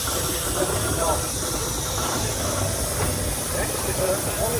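Steam hissing from a Bode traction engine at a steam rally, a continuous loud broadband hiss with low mechanical rumble beneath, and a voice talking over it.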